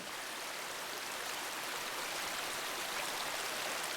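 Pure spring water flows down from a forest, a steady, even hiss of running water that stays constant throughout with no voices.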